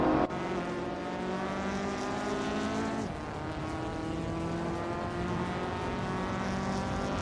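Race cars in a racing video game, a classic Ferrari 348 among them, roar steadily with strong engine harmonics and a brief gear shift near the start, then a pitch drop and another shift midway, loud and continuous with no talk.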